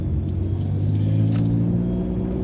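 Car engine droning steadily while driving and turning on a road near a rural area, a loud constant low rumble with a slight rise in tone, no talking.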